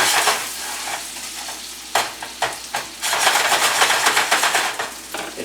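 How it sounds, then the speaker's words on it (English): Bananas and chopped walnuts caramelizing in a hot pan for Bananas Foster French toast, a loud steady sizzle broken by several sharp stirring scrapes and utensil knocks against the pan. "We're going to caramelize the chopped walnuts, get some color on the bananas."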